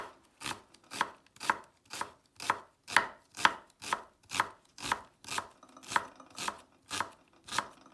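A sharp kitchen knife finely dicing an onion on a chopping board, about fifteen crisp, evenly paced chops close up with no talking.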